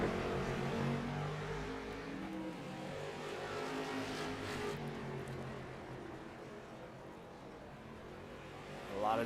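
Street stock race cars at Slinger Speedway in the iRacing sim drone together with a steady engine hum on a restart, then a louder roar swells right at the end as they accelerate.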